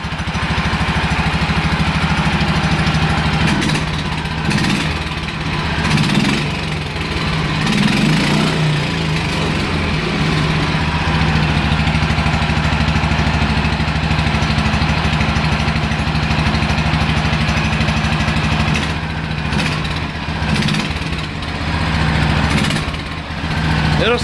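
A flat track lawn mower engine idles loudly and close, a rough, steady mechanical drone with slight surging that runs unbroken, while a person speaks faintly under it.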